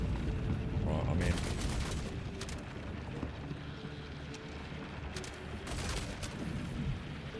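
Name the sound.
suppressive gunfire in the video game Star Citizen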